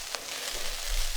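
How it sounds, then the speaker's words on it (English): Minced meat browning in a hot pan with garlic, Sichuan pepper and white pepper, a brief steady sizzle up close with a faint stir. "Garlic, Sichuan, white pepper, browning meat."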